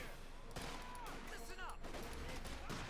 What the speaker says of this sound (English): Rifle opening up as well